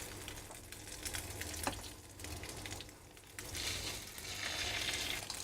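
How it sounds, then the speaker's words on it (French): Sea bream fillets fry in olive oil in a pan, a steady soft sizzle and crackle that swells and eases over a few seconds, close by and with no one speaking. "Donc on les fait revenir dans de l'huile d'olive."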